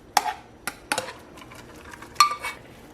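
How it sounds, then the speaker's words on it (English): Rice being spread in a baking dish, heard as a few sharp scraping knocks of a utensil against the dish with softer shuffling in between, close and fairly loud. "And then just spread the rice out."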